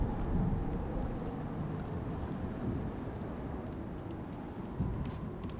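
Steady storm from the survival game Icarus, a dense roar of wind and rain that holds a constant level throughout, with a slight surge near the end and no voices.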